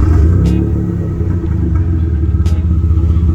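A 1992 Mitsubishi GTO twin turbo idles with no muffler fitted, a loud, deep, steady rumble with a lumpy pulsing beat and a couple of sharp ticks over the drone.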